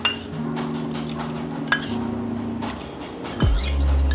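A spoon stirs kokum extract (aagal) into Maharashtrian sol kadhi in a bowl, giving a few light clinks against the vessel over a steady low background hum.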